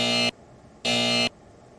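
A buzzer sounds twice in a TV studio debate, two loud, flat electronic blasts of about a third of a second each, separated by a short pause, signalling the end of a speaker's time.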